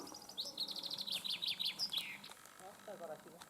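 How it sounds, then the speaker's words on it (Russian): A songbird sings nearby at a countryside cemetery, giving a quick run of high, bright chirps, then a short pause and a few lower notes, faint against a quiet outdoor background. "вон певчая птица"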